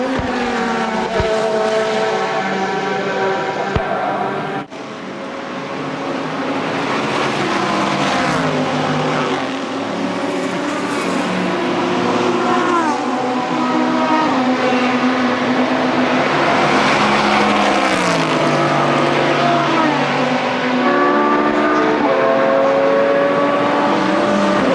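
A Spyker race car at the Le Mans 24 Hours roars past, its loud engine note rising and falling steadily with shifting pitch through a sustained pass, with no one talking.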